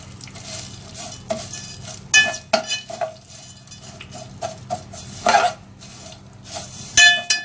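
Sev vermicelli is stirred in a pan while making sheer khurma, with a spoon scraping and clinking against the metal over a light sizzle. The strokes come in irregular bursts, close and fairly loud, with no talking.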